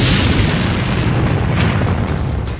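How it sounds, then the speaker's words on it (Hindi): A burning Ukrainian tank, earlier struck by a Russian Lancet drone, explodes in a loud, heavy boom that fills the whole clip as a rumbling roar, fading slightly at the end. "ये टैंक जलता रहा और फिर हुआ ऐसा धमाका।"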